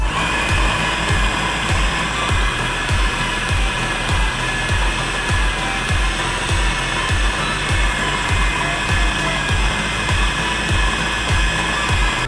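An electric chopper mincing chicken into coarse mince for nuggets, a loud steady motor whine with regular pulsing thumps as the blades work the meat, running continuously throughout.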